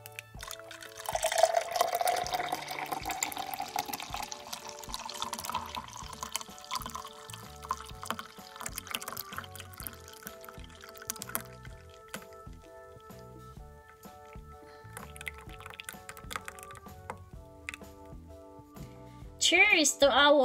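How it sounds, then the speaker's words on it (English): Pear and carrot juice pours into a glass, a soft trickling and splashing that starts loud then thins out, with faint clinks near the end and light speech around it. "So let's now put our juice to the glass and start enjoying our delicious pear"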